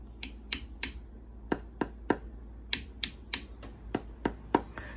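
Canning jar lids on jars of pressure-canned tomatoes are tapped one after another, about thirteen sharp, crisp clicks in an uneven rhythm, close and clear against a quiet room.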